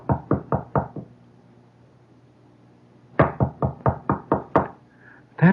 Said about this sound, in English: And there is this kind of knock. This kind that is quiet yet insistent.